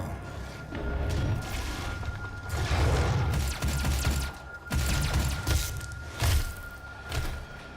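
Exploding barrels in the video game DOOM set off a string of heavy booming blasts and crashes, several bursts in quick succession with rumbling low-end over roughly eight seconds.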